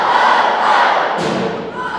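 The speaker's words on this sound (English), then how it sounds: "Everyone do ho, ho, ho with us." Middle school band concert audience shouting a loud, sustained crowd chant along with the band, a broad roar of many voices filling the hall with a brief dip and swell partway through.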